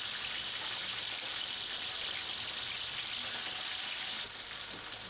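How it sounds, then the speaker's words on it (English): Marinated prawns frying in hot oil give a steady, bright sizzle that runs unbroken and close up, with no talking. "toss the marinated prawns in this hot oil briefly till they change slightly in color"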